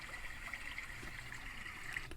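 Gentle stream-like water ambience plays steadily from a headphone app's soundscape, a continuous soft trickle and gurgle with light splashes, even and unbroken throughout.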